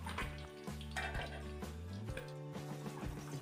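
Steady crackling sizzle of tuna frying in hot oil with occasional pops and clinks of a utensil, continuous and close, no voices.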